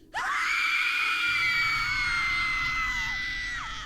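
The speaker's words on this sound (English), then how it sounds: "He points one way, then another, and the screams of tortured souls echo out." Screams of tortured souls echoing in a fantasy adventure, a loud sustained chorus of high wailing voices that rises abruptly, holds, and slowly trails off with reverberation.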